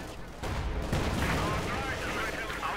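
Company of Heroes 2 battle gunfire: a tank's main gun and machine gun fire in a dense, steady roar of shots and rumbling explosions, with no pause.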